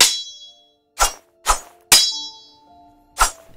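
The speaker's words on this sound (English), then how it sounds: "First one are sounds from a sword weapon, and it makes sounds like it's being swung and hitting something." Unused sword sound effects from a video game: four sharp metallic clangs and hits, each ringing briefly with a steely tail, spaced irregularly with silence between, clean and with no voices.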